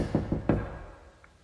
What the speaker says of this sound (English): A loud knock echoed through the house.